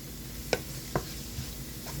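Cheese being stirred into a hot, gently sizzling garbage bread filling in a pan, with a low frying hiss underneath and two or three distinct scraping clicks of the spoon against the pan.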